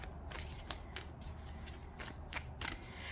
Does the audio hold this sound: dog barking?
no